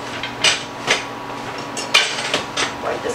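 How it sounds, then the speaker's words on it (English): A hot cooking pan is wiped out, producing a series of close metallic knocks and clatters spaced unevenly over a soft background. "I'm going to wipe this pan out again"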